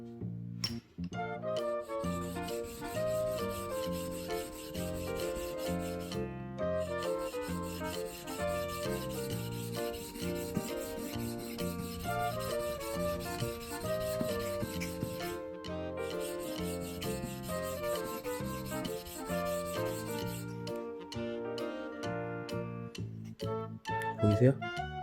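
A hand plane blade scrapes back and forth on a wet sharpening stone in steady, rhythmic rasping strokes that continue almost without pause, close and clear, with a person talking over the grinding.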